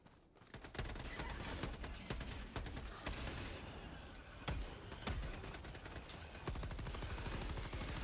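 Rapid automatic gunfire from Helldivers 2 gameplay, loud and close, with dense bursts of shots and occasional heavier blasts running almost continuously.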